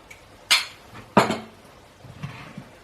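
Kitchen clatter while a baking tray is readied with olive oil and spicy tomato sauce for enchiladas: two sharp metallic clinks of a spoon or utensil against the tray, then softer scraping taps, close by with no speech.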